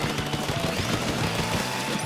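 Rapid ink gun fire in the video game Splatoon, a dense continuous stream of shots with steady rhythmic pulses over background game music.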